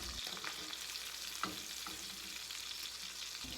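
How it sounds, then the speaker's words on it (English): Garlic cloves and compound butter sizzle steadily in a frying pan beside a pan-seared steak, a constant hiss with a few soft clicks and clatters as the cloves are tossed around, no talking. "Throwing in the garlic cloves, and then I'm going to kind of toss those around in the pan to let the oils get released"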